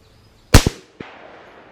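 A CMMG .350 Legend AR rifle fires one sharp, loud shot outdoors with a quick echo, then a second crack follows about half a second later, likely the impact at 10 yards.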